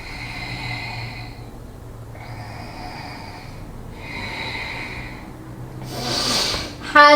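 Three slow, deep yoga breaths in a guided Kundalini and heart chakra session, each a long airy breath about two seconds long with short pauses between, close and steady, ending with a brief rustle.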